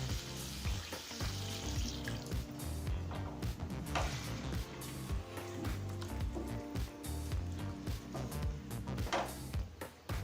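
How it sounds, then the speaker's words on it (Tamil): Half a cup of water hits sautéed chicken in a hot pan, setting off a loud, continuous sizzle and bubbling hiss that runs steadily throughout. "இப்போ அடுத்தது 1/2 கப் தண்ணி சேர்த்துக்கலாம்."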